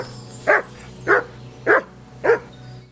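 Four evenly spaced barks from Mutt, a dog in the video game Kingdom Come Deliverance 2, sharp and fairly close over a low steady game ambience, with no talking.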